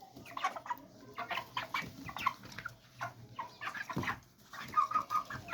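Young chickens clucking and cheeping in a poultry coop, a busy run of short calls from several birds at close range, with no talk.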